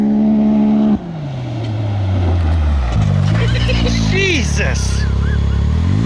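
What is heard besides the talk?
Can-Am X3 or Polaris RZR off-road car driving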